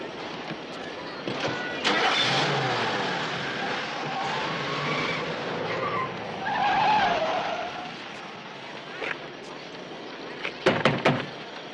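A car pulls away with tires skidding and the engine revving up, a door thudding nearby, while people talk over the noise and a few sharp clunks land near the end.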